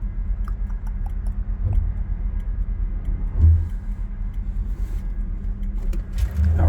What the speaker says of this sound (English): I'll drive a little fast through these curves just because I can.